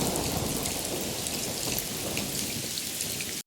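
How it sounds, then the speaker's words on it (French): Heavy rain pours steadily as a dense, even hiss over a stormy backdrop, loud and continuous with no voices, then cuts off abruptly at the end. "le ciel s'est recouvert de pluie"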